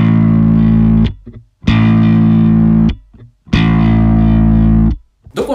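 Slap bass thumb strikes on the open A string: three loud, sustained thumped notes with short gaps between them, close and distorted-sounding, no voices.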